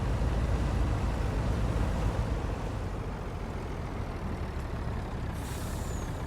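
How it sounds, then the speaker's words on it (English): A truck in Farm Simulator 19 runs while dropping off a trailer. A loud, steady engine rumble and broadband hiss hold throughout, with a brief high whistle near the end and no talking. "I'm going to drop off the trailer in the rear because we don't need it"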